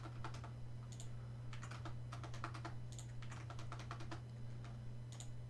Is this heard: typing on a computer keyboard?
yes